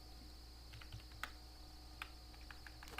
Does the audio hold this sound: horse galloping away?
no